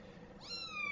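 A kitten gives a single short, rising meow, close and fairly quiet, alone in a quiet room.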